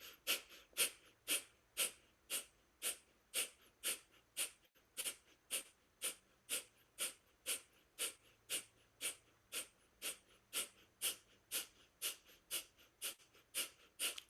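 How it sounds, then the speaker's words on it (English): Deep, rhythmic cleansing breaths during a guided breathing meditation round, about two dozen quick, even in-and-out breaths repeating steadily at close range with no talking over them. "cleansing breath in, cleansing breath out"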